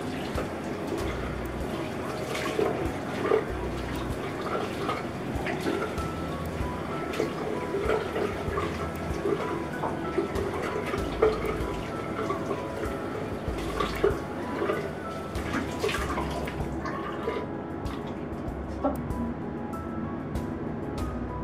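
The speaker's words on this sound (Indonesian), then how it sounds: "Tinggal kita bilas." Water splashes and drips while a face is rinsed, with irregular close splashes running under faint background sound.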